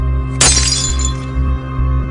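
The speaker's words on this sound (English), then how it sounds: "Maybe some glass had fallen on the floor and broken?" Glass falls to the floor and shatters in one sharp, bright crash that quickly scatters into a brief tinkling tail. A steady low hum runs underneath throughout.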